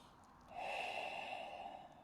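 A single steady exhale during a yoga flow, a soft breathy rush through the nose or mouth that begins abruptly and holds for over a second, close and quiet with no talking.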